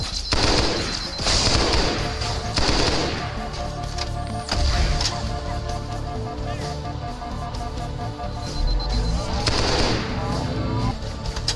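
Bursts of rapid gunfire in the first-person shooter Halo: Combat Evolved SPV3.3 come in several loud volleys with short gaps between them, mixed with blasts and game noise, and a voice talks over parts of it.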